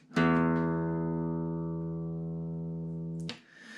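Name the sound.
classical guitar open low E string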